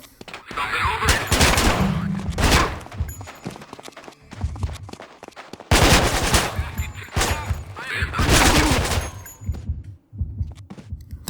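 Enemy gunfire in the video game Manhunt, with bursts of rapid shots in two main clusters, loud and close, alongside other game sound effects.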